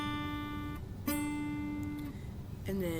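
A fretted electric guitar note on the third fret of the second string rings out clean and sustained, plucked once and then again, holding steady before a further pluck near the end.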